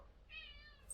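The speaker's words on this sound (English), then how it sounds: "Cat!" A house cat gives a single short, high meow, faint and close, in a quiet room with no talking.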